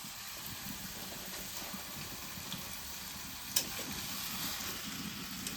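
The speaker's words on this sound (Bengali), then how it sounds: "রসুন, লঙ্কা, জিরে, টমেটো, সবই ভালোই জ্বলছে" Ginger, garlic, chili, cumin and tomato fry in hot oil, giving a steady broadband sizzle throughout with a brief sharp crackle partway through, and no talking.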